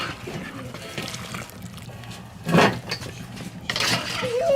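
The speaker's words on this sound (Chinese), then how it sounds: "鸡爪子煮熟了， 现在捞出来。" Boiled chicken feet lifted out of a pot of water, with soft splashing and dripping and a couple of sharper clinks of a utensil against the pot, close and fairly quiet.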